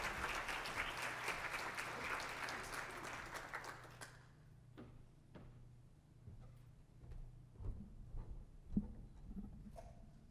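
Audience applause at a charity development-day talk welcomes speaker Ray Odom, a dense, loud burst of clapping that stops abruptly after about four seconds, followed by quieter room noise, shuffling and scattered knocks.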